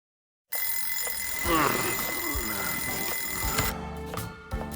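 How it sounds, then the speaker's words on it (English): An alarm clock rings in the video game Lost Judgment, a steady bright electronic ringing that carries on for a few seconds and then cuts off, leaving a few quieter clicks and thumps. "Wow, I even moved the alarm and everything."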